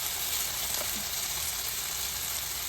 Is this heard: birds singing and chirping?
no